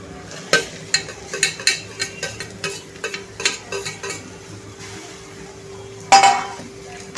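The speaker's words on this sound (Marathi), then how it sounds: "जी शिमला मिरची आपण चॉप केली होती बारीक बारीक, ती आहे. ती ह्या कांद्यासोबत फ्राय करायची आहे." Finely chopped capsicum being stirred with onions in a pan for pav bhaji, a spoon clinking and scraping in a steady series of sharp taps over a soft sizzle, with a louder clatter near the end.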